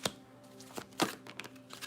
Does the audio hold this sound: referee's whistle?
no